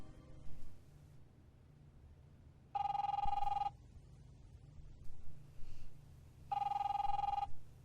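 An old-style telephone bell rings in two separate bursts within The Wolf Among Us, each about a second long, over a low background hum with faint scattered sounds between the rings.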